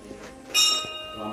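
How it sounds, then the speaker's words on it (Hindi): A single bright strike of a Shiva temple bell at a hill fort rings out and decays with a lingering metallic tone, close by, with faint background murmur. "शिव जी की घंटी को बजाते हैं"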